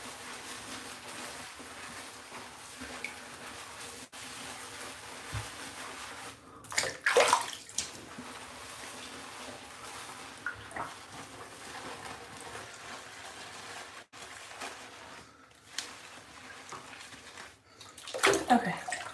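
Hot water runs steadily into a bathtub, making a continuous rushing splash close up, with occasional louder sloshes and bumps and faint talking in the background.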